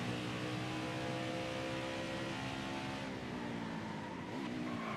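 A racing truck engine in NASCAR Heat 5 drones loudly and steadily, its pitch sliding downward and then briefly rising near the end as the gearing drops, with no talk over it.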